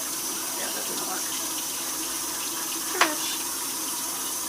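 Tap water runs steadily into a kitchen sink as dirt is washed off a child's hands, a constant splashing hiss with one brief sharp clink partway through.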